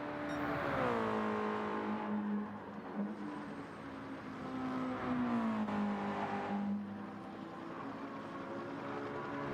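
Race car engine in a GT racing video game, a loud, sustained, whining engine drone whose pitch drops and climbs again through gear changes and throttle lifts, with no talk over it.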